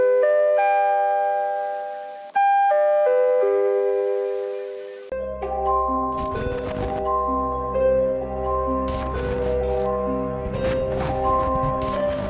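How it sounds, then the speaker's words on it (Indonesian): A bell rings in clear tonal chimes, a few sustained notes ringing out alone, followed by a denser, brighter jangle of overlapping chimes and clinks that stays loud and close. "Masih ingat tadi dengan bel yang ada di depan"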